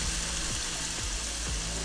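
Food sizzles and fries in a hot pan with oyster sauce caramelizing, a dense steady crackle close up with faint rhythmic stirring scrapes and no voices.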